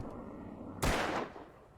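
A single sharp gunshot cracks in the Alan Wake video game and fades into a short, dull tail over a low background hum.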